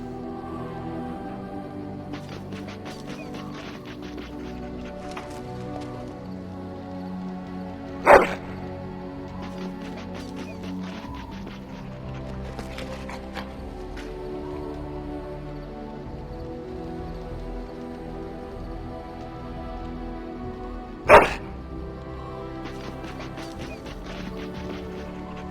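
A dog barks in the video game Dragon Age, two sharp single barks far apart over a steady bed of game music and ambience.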